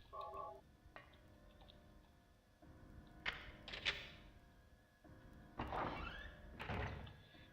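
A door opens in the PlayStation video game Silent Hill with a sequence of electronic tones, mechanical whooshes and sliding, creaking sweeps, fairly quiet and drawn out over several seconds with no talking.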